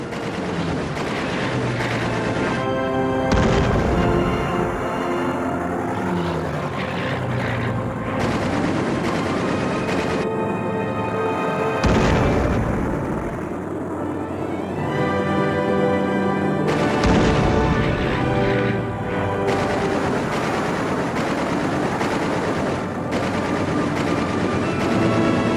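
P-47 Thunderbolt fighters strafe with heavy machine-gun fire, repeated rapid bursts and sharp volleys crackling loudly over a dense rumbling din for the whole stretch.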